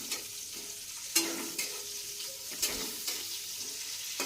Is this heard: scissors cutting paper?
no